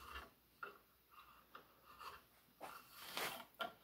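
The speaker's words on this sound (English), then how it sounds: "I'm gouging away on here, just trying to get excess wood out that I know's got to disappear." A hand gouge carves excess wood from an old chair in faint, repeated scraping and rasping strokes, each stroke short and close, with a quiet steady background.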